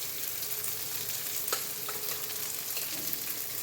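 Hilsa fish curry with garlic, onion, turmeric, chili, cumin and coriander powder frying in oil, giving a constant crackling sizzle with occasional stirring scrapes, close up and without speech.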